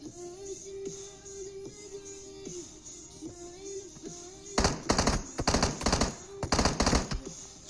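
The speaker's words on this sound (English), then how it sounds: "Shooting them in the butt." An M16 rifle fires in a video game in two rapid bursts of loud, close shots after a stretch of quieter game tones.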